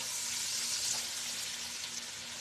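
One chopped red onion fries and sizzles in a hot pan while pasta is being cooked at home, giving a steady, fairly loud hiss that stays even throughout with no talking.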